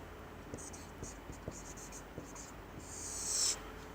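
Chalk or marker scratching on a board during a maths lesson, a series of short light strokes at a steady pace with a longer squeaky stroke near the end, faint and close.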